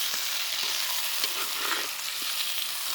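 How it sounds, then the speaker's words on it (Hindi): Country chicken frying in a pot, a dense continuous sizzle with faint stirring knocks underneath, close and steady. "डाल दिया है, देसी मुर्गा। तो इसको पहले थोड़ा भून लेंगे"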